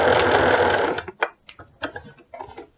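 A sewing machine runs a fast burst of stitching while attaching elastic to sweatpants, then stops into scattered clicks and ratcheting as the presser foot is lifted and the fabric turned, close and loud with no voices.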